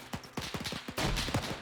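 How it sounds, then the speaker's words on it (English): MP40 submachine gun firing in a WW2 video game: a rapid string of sharp shots at fairly even spacing that thickens into a denser, louder burst toward the end, with no voices. "Got an MP40 firing from the right."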